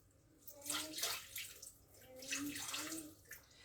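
Water pours steadily in a few gushing bursts of splashing flow as 220 g is measured out at home for a recipe, fairly close and moderately loud, with no talk over it.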